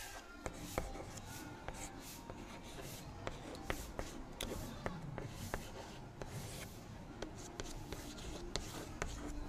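A pen scratches steadily on paper while a math solution is written out by hand, producing close, continuous scribbling with regular sharp taps as strokes start and end.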